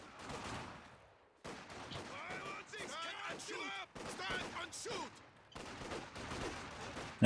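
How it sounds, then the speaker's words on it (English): Many soldiers fire at once in a 2v2 strategy game battle, a dense, continuous crackle of overlapping rifle shots with brief pauses between volleys, under an excited commentator talking throughout. "And this is a lot of boys firing, ladies and gentlemen."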